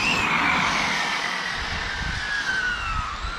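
Rafouil's RC car, fitted with a Kamtar FG 12s 500kv motor, sliding across a wet parking lot: a high electric motor whine gliding downward in pitch over a steady spray-like hiss, loud and nearby.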